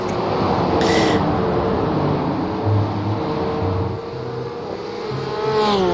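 Race car engines roar at the Nurburgring in a sim racing game's VLN endurance event, with a steady droning note that rises and falls with gear changes as another car passes close by.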